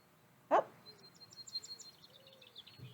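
Small finch giving short high squeaks and chirps, a quick sharp note followed by a scattering of faint twittering calls, outdoors among other birds with a bit of distant background noise.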